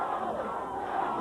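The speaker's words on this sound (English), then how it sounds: "Listen to that crowd." A large wrestling arena crowd at a 1984 Portland match roars and yells in a dense, sustained wall of cheering with no break.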